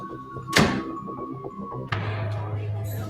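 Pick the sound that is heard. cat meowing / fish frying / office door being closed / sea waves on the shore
office door being closed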